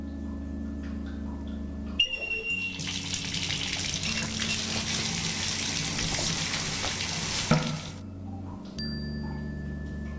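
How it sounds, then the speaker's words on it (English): Cold water splashed from a cup onto a character's face in the PC horror game Lorelai: a steady broadband pour and splash running about six seconds, fairly loud and close, over a low game ambience hum. "Maybe I should splash some water on Jimmy's face."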